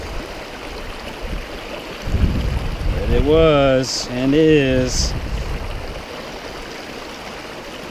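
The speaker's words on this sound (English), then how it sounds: "Very happy that this creek was running." A running creek in the Grand Canyon rushes in a steady, close wash of water while someone speaks briefly over it.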